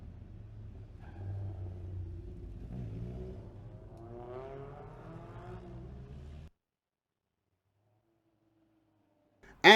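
Touring cars racing at the FIA Motorsport Games, engines rumbling and revving with rising pitch for several seconds, then cutting off abruptly into near silence before a sudden loud burst at the end.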